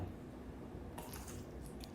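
A crunchy maple garlic vegan shrimp snack gets bitten into close up, with a crisp crackling crunch breaking out about halfway through after muffled chewing sounds, and no one speaking.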